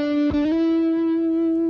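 A single sustained, distorted note on an Ibanez electric guitar slides from the 7th to the 9th fret of the G string, the pitch gliding up once before holding steady and ringing loud and alone.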